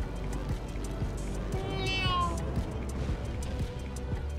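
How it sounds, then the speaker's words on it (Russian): A local cat in the My Time at Portia video game meows in a short rising-falling call while chasing the player, heard over steady game ambience and rhythmic footsteps. "что за мной начала бегать местная кошка"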